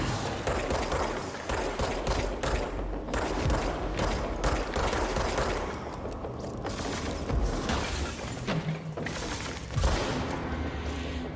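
Rapid gunfire from the video game Control, a dense barrage of overlapping shots and mechanical clatter running steadily for the whole stretch with no voices over it.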